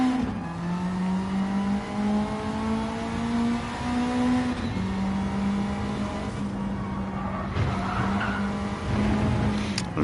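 A race car in a racing video game skids through sand, its engine holding a steady droning note while tires hiss and scrub, loud and continuous for ten seconds with small shifts in pitch.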